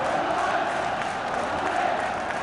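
Spurs football crowd at a 1976–77 match against Sunderland, a broad sustained roar of cheering fans filling the stadium, steady throughout.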